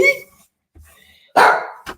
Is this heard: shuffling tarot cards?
no